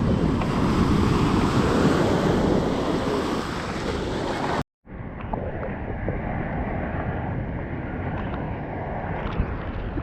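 Ocean waves break at high tide at the Padang Padang surf spot, a steady loud wash of surf with wind buffeting the microphone. After a short dropout the surf returns slightly softer.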